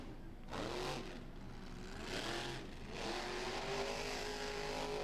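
A monster truck engine at a Monster Truck Throwdown event in Galot revs hard and surges in repeated loud bursts as the truck swings into a donut, with a rising, falling roar and no talk over it.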